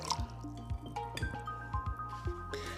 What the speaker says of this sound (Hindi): हम थोड़ा सा और पानी डालेंगे इसके अंदर